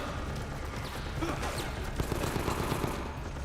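Rapid gunfire bursts crackle through a dense, continuous action-game mix in Resident Evil: Operation Raccoon City, with scattered sharp shots and impacts layered over steady background noise.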